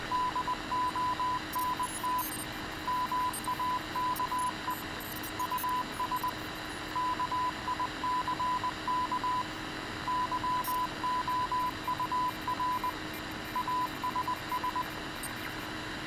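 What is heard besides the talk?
radio noises and static from a Halo video game easter egg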